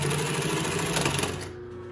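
A Singer 112W139 double-needle walking-foot industrial sewing machine stitches with Tex bonded nylon thread. It makes a brief, steady mechanical whir that winds down near the end.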